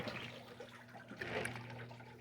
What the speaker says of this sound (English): It sounds like a tiny toilet flushed, and with that, it begins to fill itself